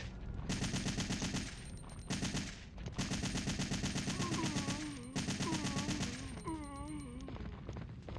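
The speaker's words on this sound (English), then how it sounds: "I'm gonna be super liberal with my use of this machine gun" Sustained bursts of automatic machine gun fire in the video game Resident Evil 3: Nemesis, loud and continuous with short pauses between volleys, joined near the end by a warbling, wavering tone.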